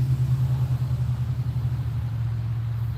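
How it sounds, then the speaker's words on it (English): A truck pulling a rough, worn travel trailer rumbles past at a steady low drone, its engine noise even and continuous with no voices. "That was a rough looking travel trailer going by."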